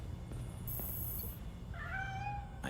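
A cat meows in the video game Gotham Knights, a drawn-out, wavering call rising near the end over a steady low ambient rumble, preceded by a brief bright electronic tone, with no talking.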